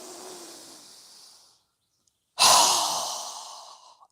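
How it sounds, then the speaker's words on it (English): Two forceful breaths through the nose during a yoga breathing exercise: a softer, longer exhale fading out, a brief silence, then a sharp, loud blast of air that trails off over about two seconds. "we're going to inhale. Strong exhale"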